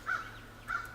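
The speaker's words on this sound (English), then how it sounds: "Oh, hush, Mr. Bird." A crow gives two harsh caws roughly half a second apart, fairly close and clear over quiet background, with no talk.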